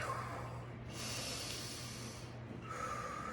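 Slow breathing during a yoga session, two long airy exhales with a soft hiss, close and quiet over a low background hum.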